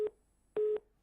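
Two short electronic beeps of a telephone line tone sound after a dropped call on a radio phone-in, a brief pulse followed by a longer one, clear and alone with no talk.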